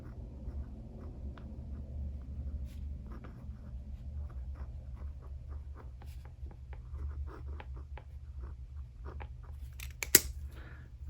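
A pen writes in a paper planner, close and steady, with quick scratchy strokes and taps over a low background hum and no talk.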